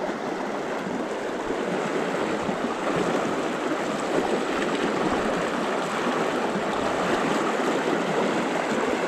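A river flows in a steady broadband rush, loud and continuous as someone wades downstream while trout spey fishing, with no talk over the water.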